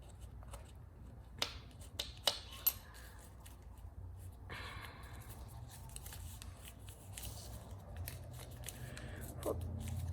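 Paper for an origami bomber is creased and folded by hand, giving soft rustles and a few sharp crisp snaps, close and quiet, with no talking.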